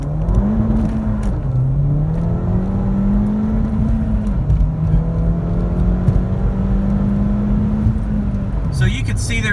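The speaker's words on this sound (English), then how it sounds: "So you can see there, first and second gear, you're just slipping tires." Ford Fiesta ST fitted with an X47 turbo pulling onto an interstate, engine droning loudly as it climbs through first and second gear with tires slipping, a gearshift dip midway and turbo whir, ending in a brief burst of noise.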